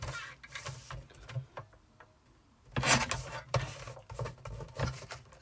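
A paper trimmer slices through card for a Christmas cracker: scraping, rasping blade passes with a louder sweeping cut in the middle, close and dry, with small handling taps around it.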